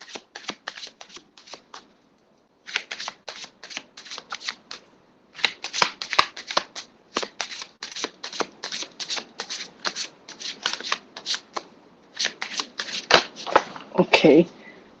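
Tarot cards shuffled for a reading, a long run of quick riffling bursts separated by short pauses, crisp and close, ending with a brief louder flurry.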